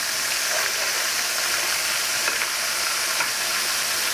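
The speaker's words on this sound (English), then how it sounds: "let these fry about 3 minutes" Cajun-seasoned catfish fillets fry in hot oil, a dense, steady, loud sizzle with occasional crackles and pops throughout, no voices.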